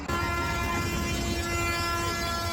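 A slow fairground toy train ride at a mela rumbles steadily along, a continuous dense mechanical drone with a sustained tonal whine over it, loud and close, with no talking.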